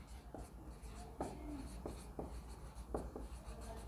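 Quiet pen-on-paper writing, close up, with several short scratchy strokes and taps in an uneven rhythm over a low background hum.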